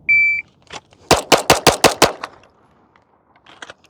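Pistol shots fired at seven yards in a well-aimed shooting drill: a beep sounds first, then a fast string of six sharp, loud reports, followed later by a faint pair of quieter clicks.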